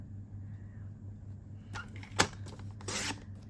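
A paper trimmer slices A4 cardstock down to size, a few quick scraping strokes and a sharp click in a quiet room over a low background hum.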